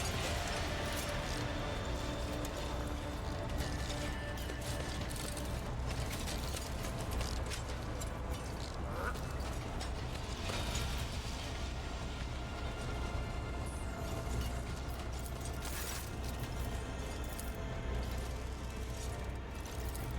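Mechanical switch shifting in the video game Warhammer 40k: Rogue Trader, a continuous dense grinding of gears and ratcheting clicks, steady and loud throughout, with no voices.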